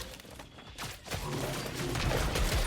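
Bursts of rapid gunfire from a ranged ninja's weapon in Killing Floor 3, fired wildly in a narrow hallway, with sharp repeated cracks building in loudness over mechanical clatter.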